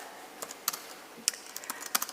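Computer keyboard keys tapped in short irregular bursts, crisp clicks coming close together and then pausing, heard alone against a quiet background.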